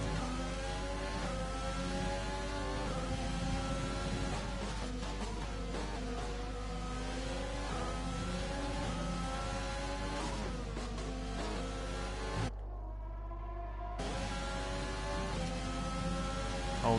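Racing cars in a Wheel2WheelRacing sim race at Austria: steady engine whine with rising and falling revs and gear changes, fairly faint, cutting out briefly near the end before resuming.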